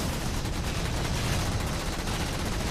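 Heavy plasma cannon fire from a Phantom dropship in Halo 4, a dense, continuous barrage of rumbling blasts filling the whole stretch at steady loudness with no speech over it.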